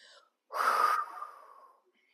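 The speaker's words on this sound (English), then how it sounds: "Exhale, you close the ribs and breathe all your air out" A single forceful exhale during an abdominal breathing exercise, pushing all the air out in a long breathy rush that fades away, close to the mic and heard alone.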